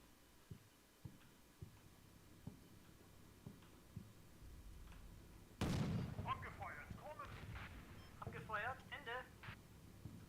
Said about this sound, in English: I think we might have just heard one of the artillery rounds off map. One of the spotting rounds, perhaps.